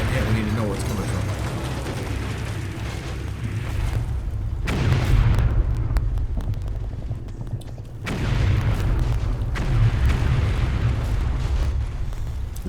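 Heavy explosions from the Combat Mission: Red Thunder wargame pound units and a building, loud booming bursts in sustained rumbling waves with sharp onsets around four and eight seconds, with someone talking over the barrage.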